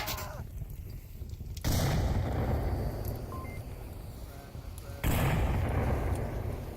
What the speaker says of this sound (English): Nade's getting tossed on the corner with that smoke, and Pancake pretty far back.